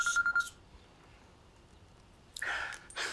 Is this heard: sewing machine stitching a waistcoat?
no